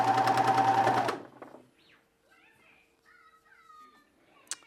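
A serger stitches pajama fabric in a loud, fast, whirring run for about a second, then stops. Quiet room sounds and a faint click follow.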